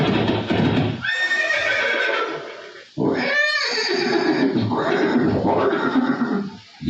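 Chetak, Maharana Pratap's horse, lets out a loud, close whinny after snorting and shuffling hooves, with dense dramatic background sound throughout.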